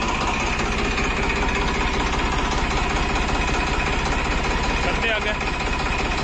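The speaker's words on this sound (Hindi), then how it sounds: "तो ट्रैक्टर को करते हैं स्टार्ट, और अब पीटीओ का गियर लगाते हैं।" Tractor engine running steadily with its PTO gear engaged, a constant loud mechanical drone throughout, with a person talking over it.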